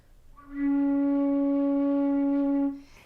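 A flute sounds a single sustained low C sharp, held steady and clear for about two seconds with a soft onset and a gentle release, played alone with no other sound.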